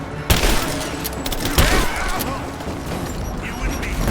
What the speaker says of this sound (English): I'm taking fire!